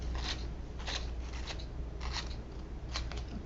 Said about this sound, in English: I'll cut off the excess.